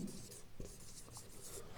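A word is written on a classroom board in a quick run of soft scratchy strokes, quiet and close, with no talk over it.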